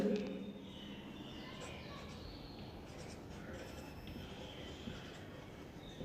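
Chalk or marker scratching on a board in a classroom chemistry lesson, soft intermittent strokes under a teacher's steady talk.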